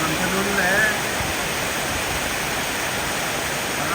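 Very heavy rain pours down in Vientiane, Laos, amid flooded streets, producing a loud, unbroken roaring hiss like a waterfall. A voice is faintly audible early on, beneath the downpour.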